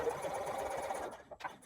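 Running stitches on a zipper, a home sewing machine whirs quietly and steadily at close range for about a second, then slows and halts with a couple of soft clicks.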